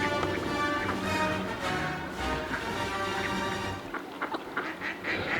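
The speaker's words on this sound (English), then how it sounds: "There's just one or two ducks down here." Ducks quack on a canal, a few scattered calls over steady outdoor background, moderately near and fairly quiet.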